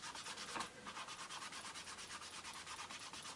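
An ink dauber rubs over card in quick, even, repeated strokes, a soft close scrubbing that runs without pause and with no voices.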